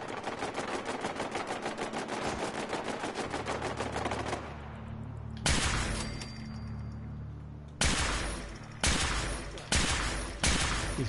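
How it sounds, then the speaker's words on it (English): Rapid automatic gunfire from Fallout 4 rattles in a dense burst, then pauses before several heavy single shots ring out with echoing tails, aimed at a glowing enemy. "He's going to take a bit of shooting this one."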